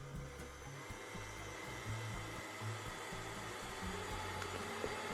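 A K mix stand mixer whirs steadily at third speed while beating icing sugar, a continuous motor hum with a low rhythmic churning from the bowl.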